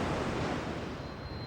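Ocean waves crashing against a rocky coast, a broad, faint rushing wash of surf that slowly fades, mixed with wind.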